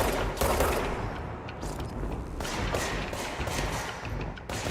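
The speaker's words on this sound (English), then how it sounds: "Who's shooting at me?" Gunfire aimed at the player in the game Control, a dense rattle of rapid shots and thudding impacts layered over a steady rumble, loud and continuous with sharp bursts throughout.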